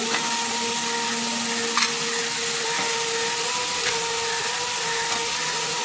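Chopped capsicum lands in a pan of chicken that is already cooking, giving a steady sizzle and frying hiss with a faint tonal hum beneath and an occasional small clatter.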